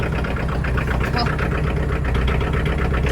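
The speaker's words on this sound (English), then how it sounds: "She is a very ornery starting tractor when it's cold." A tractor engine idles steadily after a hard cold start, a loud, close, even chugging that runs without a break.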